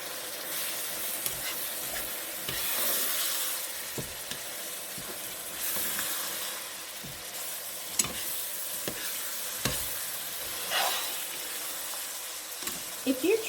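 Shepherd's pie ingredients stirred together in a hot pan: a steady sizzle and soft frying hiss broken by repeated scraping strokes of a utensil, close and moderately loud.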